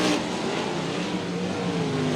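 Sprint cars race side by side on a dirt speedway, their engines a loud, sustained high roar that swells slightly as they pass.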